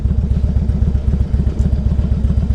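A 2002 Harley Davidson Ultra Classic motorcycle engine runs with a loud, close, steady loping thump, the V-twin pulses repeating in an even rhythm with no voices.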